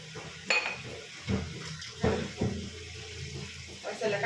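Dirty dishes, pots and pans are washed at a sink. Metal clanks and knocks come every second or so over light running water.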